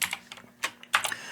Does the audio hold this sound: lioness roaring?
no